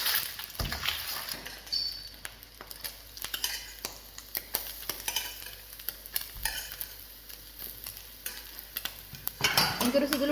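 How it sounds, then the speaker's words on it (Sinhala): Two eggs frying in hot oil in a pan, with a steady sizzle under repeated sharp clinks and scrapes of a utensil stirring against the pan, close and fairly quiet. "මුලින්ම තෙල් ටික රත් වුණාම බිත්තර දෙකක් දාලා හොඳට බැද ගන්නවා"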